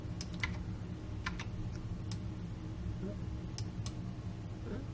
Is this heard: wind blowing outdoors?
no